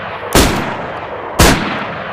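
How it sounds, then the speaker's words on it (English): A BK-43 double-barrel shotgun in the game DayZ fires two loud, sharp blasts about a second apart, each with a short fading tail. "The BK-43 or double barrel shotgun has a unique sound up close but sounds similar to the Vega."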